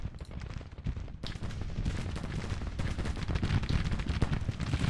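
Rapid, continuous booming and crackling of an artillery bombardment in the Civil War strategy game Grand Tactician: The Civil War, dense overlapping shots rolling on loud and unbroken, with no talk.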